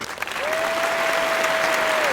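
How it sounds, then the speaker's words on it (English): Brief audience applause, a dense steady burst of clapping lasting about two seconds, with a sustained whistle-like tone running across it. "Let's get a round of applause."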